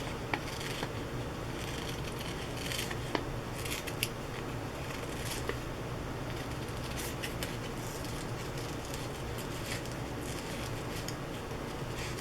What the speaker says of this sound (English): Please forgive all the time it takes for the fussy cutting.